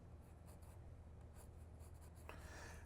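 A pencil scratches a line across watercolor paper, a soft, close, continuous scraping with a few faint strokes, quiet throughout.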